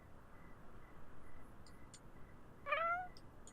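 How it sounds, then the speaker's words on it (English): A cat in The Sims 4 Cats and Dogs gives a single short, rising meow near the end, close and clear over a quiet game background with faint chimes. "Colleen, you're such a weird little cat."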